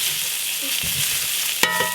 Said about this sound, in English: we're pan searing it, letting it get a nice crust on the one side